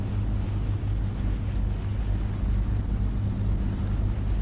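Engines of a Handley Page Halifax bomber in War Thunder drone continuously, a dense low rumbling roar that stays steady and close with no talk.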